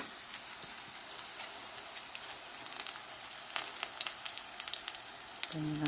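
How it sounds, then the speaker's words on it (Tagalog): Chopped chives fry in hot oil for crunchy chives, a steady crackling sizzle with scattered sharper pops, close and fairly quiet, with no one talking. "Tapos lagay natin dito sa mainit na mantika."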